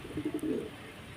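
A pigeon coos up close, a soft burbling run of low notes lasting under a second, then quiet.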